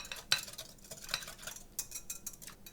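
A utensil stirs minced garlic into a balsamic dressing in a bowl, giving irregular clinks and scraping taps against the dish, close and fairly loud, with no talking.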